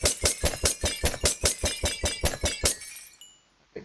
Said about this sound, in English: Here comes glass breaking sounds.